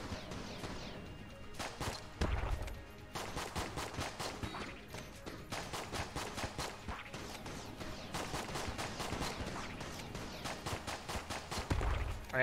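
Rapid, steady bursts of gunfire from the bullet-hell video game Enter the Gungeon, with shots repeating in quick rhythmic volleys over a dense game soundtrack and a few heavier thumps.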